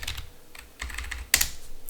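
Fingers type on a computer keyboard in short, quick bursts of clicking keystrokes, with a sharper keypress near the end, close and clear with no talk.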